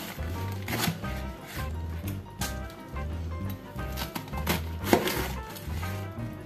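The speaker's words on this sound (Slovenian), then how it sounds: "Kupus ću isrskati na kockice." A knife cuts cabbage into cubes on a board, halving and quartering it first. Repeated close chopping knocks come in an uneven rhythm, some louder than others, over a quiet background.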